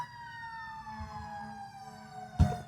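An ambulance siren wails outside, a steady tonal sweep heard at moderate distance under low traffic rumble, ending with a sudden thump.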